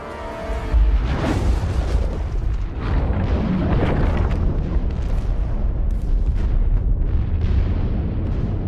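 Huge explosion as the core is destroyed in the space game The Expanse, a sustained roaring blast with rumbling booms and crackling debris that stays loud throughout.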